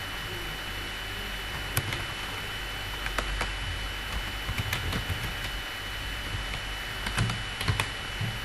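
Quiet computer keyboard typing, with scattered soft key clicks in short irregular bursts over a steady low hiss, entering a delivery address in Microsoft Word.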